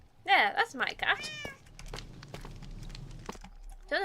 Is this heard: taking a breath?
no